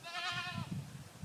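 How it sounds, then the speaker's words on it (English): Goats on a small fenced farm bleat close by, a single wavering cry with a mother and young nearby, followed by low shuffling and faint bleats. "mainly for these goats who are making themselves heard"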